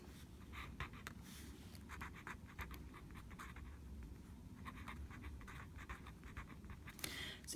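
Pen scratching steadily on paper while a quick slope sketch is drawn for a maths lesson, close and continuous soft strokes with faint breathing, no talk.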